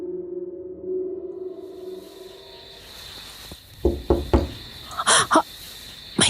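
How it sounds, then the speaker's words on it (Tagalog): Someone knocks repeatedly on a barn from outside, a quick series of sharp, loud raps in small bursts, preceded by a low droning tone. "sunod-sunod na katok na mula sa labas ng kamalig"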